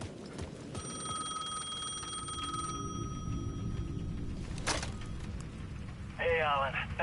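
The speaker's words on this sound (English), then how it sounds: "The payphone at the edge of the plaza was ringing again." A payphone rings at the edge of a plaza in Alan Wake 2, its bell trilling in a couple of long bursts under a steady low rumble, ending as a voice comes in over the line.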